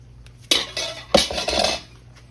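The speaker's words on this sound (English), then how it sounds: "add the powdered sugar to this. Mix it up in here." Powdered sugar stirred into melted chocolate in a pot, heard as two sharp utensil scrapes and clinks against the pot with a softer shuffling between, close and fairly loud.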